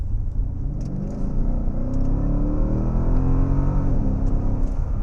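A 2011 Mercedes-Benz S63 AMG with 536 horsepower accelerates hard on a test drive, its engine note climbing steadily in a deep, loud cabin drone, with a brief drop near the end as it shifts gears smoothly.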